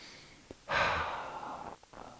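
A single deep breath during a vinyasa yoga session: a short intake, then a long, breathy exhale lasting about a second, close and clear, with no talking.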